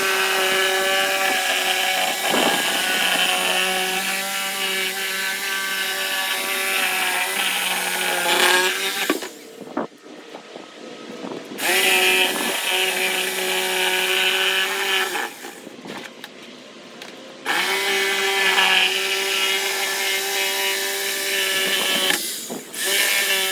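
Power tool cutting through the lid of a homemade deer feeder, a steady loud whine running in long stretches with brief pauses between passes, no talking.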